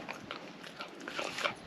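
A dog is close by, making soft snuffling and chewing-like noises in quick irregular bursts over a faint hiss.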